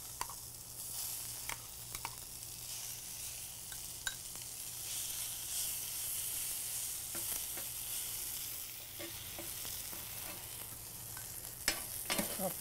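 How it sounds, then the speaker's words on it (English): Caramelized onions sizzle steadily in a preheated pan being readied for a copycat Emmy burger, a constant hiss with scattered faint scrapes and clicks, no voices. "I'm going to get those heated up."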